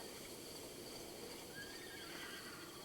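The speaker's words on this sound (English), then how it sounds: "There are many horses." Faint whinnying from a herd of horses in a cozy video game rises softly over a low steady background hum, with no talking.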